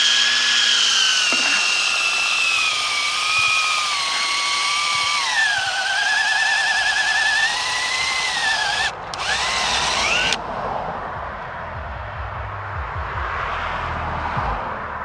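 A power drill bores a tap hole into a tree trunk, its loud, steady whine sliding slightly in pitch for about ten seconds before cutting off, leaving quieter scraping and handling noise.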